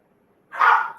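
A single short bark or yelp from an excited dog, close and fairly loud, sounding alone after a moment of near silence.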